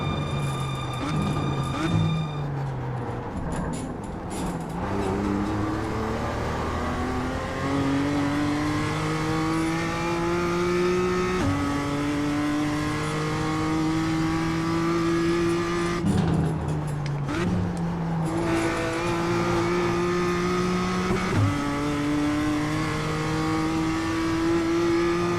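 Race car engine in the iRacing sim on hot laps around Summit Point, loud and close, revving through gears with rising pitch sweeps, brief drops at shifts and lifts, steady and continuous.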